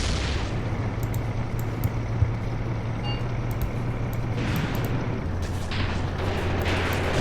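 Tank battle in the Graviteam Tactics: Mius Front video game, with a steady low rumble of armour and distant booming shots and explosions building toward the end, with no talking.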